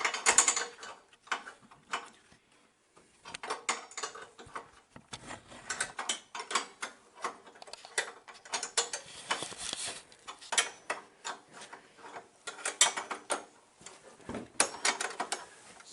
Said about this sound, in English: So what I'm doing here is I'm loosening these nuts.